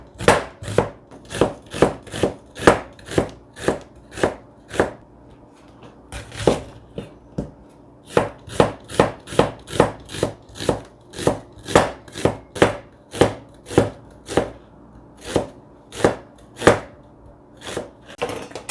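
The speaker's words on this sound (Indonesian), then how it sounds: "ini bawang bombay diiris tipis-tipis ya" Onion being thinly sliced with a knife on a cutting board: a long run of crisp, sharp chopping knocks at a steady, quick rhythm, close and clear, with a few short pauses and no talk.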